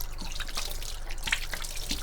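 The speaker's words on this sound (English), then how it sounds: "Just wash my hands again." Running tap water trickling and dripping steadily into a kitchen sink while hands are washed, a continuous close splashing wash with small irregular drips, no talking.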